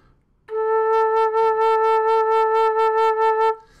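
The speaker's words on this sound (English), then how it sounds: "So that's low A for flute." A flute holding a low A note, one steady sustained tone with a soft attack and a slight pulsing vibrato, clean and alone for about three seconds.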